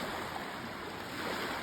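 Small Lake Michigan waves wash at the water's edge along a rocky shoreline, a soft, continuous broadband rush with faint wind and no voices.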